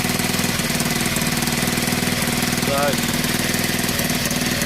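A Honda XL 125 motorbike engine runs steadily at idle with a close, constant knocking chug throughout, while a voice speaks briefly over it.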